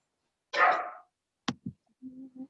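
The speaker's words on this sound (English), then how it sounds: "I think that one's my dog that's barking right now, actually." A dog barks in a home during an online class: one long broadband bark, then two short sharp barks, followed by a faint low whine, each standing alone against silence.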